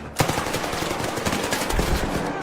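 Rapid gunfire rattles in a video game match, a dense stream of close, loud shots that barely pauses throughout.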